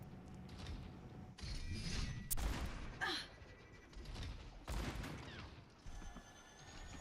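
Gunfire in the team shooter Overwatch 2, shots striking through a wall in short bursts with sharp cracks and mechanical clatter, moderately loud amid game noise and no speech.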